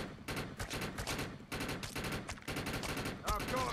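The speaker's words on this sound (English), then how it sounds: "It feels like a P90 because it just empties the clips so fast" Rapid, sustained bursts of submachine-gun fire in a video game, dense repeated shots in several long strings with brief gaps, loud and close, with a faint voice underneath near the end.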